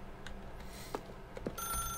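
Scattered faint clicks give way to a telephone ringing in a video game, a bright electronic tone that starts near the end and holds briefly.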